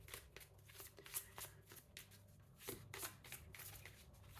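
Oracle Lenormand cards are shuffled by hand, a faint, close run of quick papery riffles and soft slaps in an uneven rhythm, with no talking.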